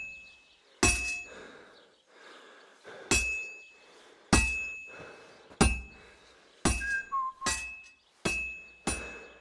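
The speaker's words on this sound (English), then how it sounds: "You've got to hammer the workpiece evenly." A blacksmith's hammer rings on a sword blank on an anvil in the video game Kingdom Come Deliverance II. Eight sharp metallic clangs at steady intervals each leave a bright, lingering ring, with a faint whistle between two of them.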